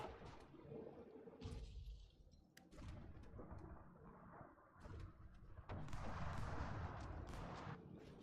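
Rumbling artillery barrages from the Hearts of Iron IV strategy game, continuous booming and crackling blasts layered over a dense, low roar, with heavier bursts swelling near the end.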